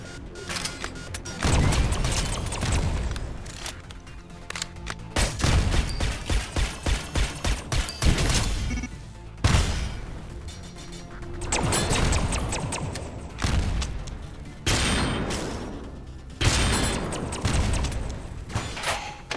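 Sharp sniper rifle shots and gunfire bursts from a video game ring out at intervals, with mechanical clicks and thumps between them.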